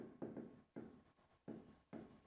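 Someone writes on a board during a physics lesson, producing four quiet, close, scratchy bursts of strokes separated by short pauses, with no talking.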